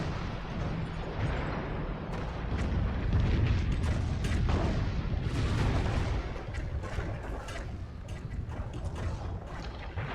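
Artillery fire in a strategy video game: a steady barrage of booming shots and rumbling impacts running continuously, dense and loud throughout with no talking.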